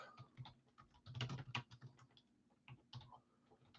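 Fingers tap rapidly on a computer keyboard, an uneven run of close, crisp clicks with a few louder bursts and short pauses, no voices over it.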